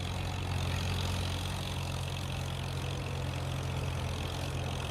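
An old 1962 tractor engine runs steadily while pulling a roller on a farm, a loud, constant low rumble that continues throughout with no talking.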